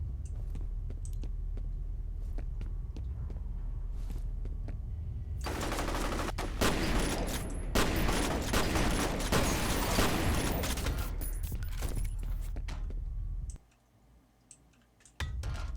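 Gunfire in the F.E.A.R. video game, with sustained rapid automatic shots and a loud, dense blast-like burst in the middle, clicking throughout, before the sound drops away near the end.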